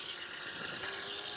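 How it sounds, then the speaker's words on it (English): Water running from a tap into a kitchen sink basin, a quiet steady hiss and splash with no voices. "So we're going to let some water here into this Plavis"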